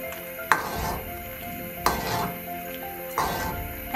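A pot of Thai soup with torn lime leaves is stirred in three scraping strokes roughly a second apart, each with a brief utensil knock against the pot, over a steady low simmer and sizzle.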